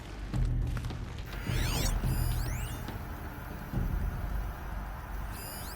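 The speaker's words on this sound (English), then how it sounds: "Now let's get that door open" Heavy door mechanism opening in Horizon Zero Dawn, with clunks, ratcheting and grinding metal, then rising and falling whirring sweeps, moderately quiet and heard on its own.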